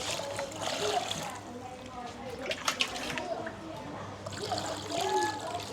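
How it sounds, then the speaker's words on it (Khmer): Water splashes and trickles steadily as fish is washed clean for steamed fish glass noodles, with running and dribbling sounds throughout and people talking over it. "លាងត្រីឲ្យស្អាតឲ្យហើយសិនទៅ"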